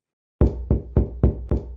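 Hands thudding on a door, five loud, heavy knocks in a steady rhythm after a moment of silence, close and alone.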